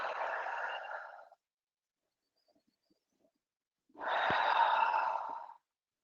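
Two long, deep breaths during a yoga hip stretch, each a slow, airy exhale heard close and clearly, separated by a few seconds of near silence.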